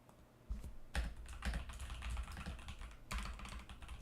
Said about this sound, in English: Keyboard ASMR.